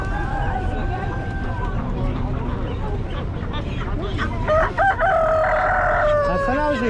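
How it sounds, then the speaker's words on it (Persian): Rooster crowing at a busy outdoor holiday bazaar in Kelachay, Rudsar, Gilan, northern Iran, with several drawn-out crows rising over steady market chatter and voices nearby. "خروس"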